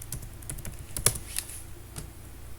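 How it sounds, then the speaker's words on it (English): Someone types a search on a computer keyboard, a quick run of crisp key clicks with one louder tap near the middle, close and alone. "So you just type in markdown and cheat sheet"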